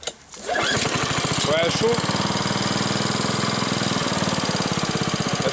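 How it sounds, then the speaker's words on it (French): An idling small engine on a machine with a half-broken governor runs loud and close with a rough, knocking chug after starting, while voices speak briefly over it. "si on les entend pas au montage, les retours de flamme"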